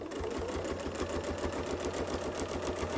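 A sewing machine stitches quilting along a Westalee Design Mini Baptist Fan template, a fast steady mechanical rhythm of needle strokes running throughout, fairly quiet and without speech.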